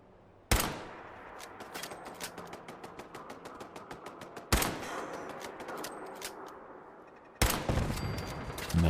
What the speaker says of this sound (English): I'm gonna practice my sniping here.